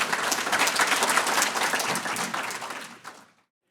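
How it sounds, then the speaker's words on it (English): A lecture audience claps in welcome for a speaker, a dense, steady burst of applause from a sizable crowd that thins out and stops after about three seconds. "Please give me a hand in welcoming Brant."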